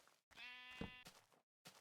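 A sheep bleats once in Minecraft, a drawn-out wavering cry with a short tail, set between stretches of quiet and a brief burst of other game sound at the end.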